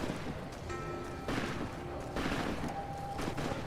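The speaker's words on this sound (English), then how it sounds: "Oh, they're shooting. They're shooting!" Gunfire in Fallout: New Vegas, a chaotic shootout of overlapping shots and bursts that stays loud and dense throughout, with stronger swells of fire coming in waves.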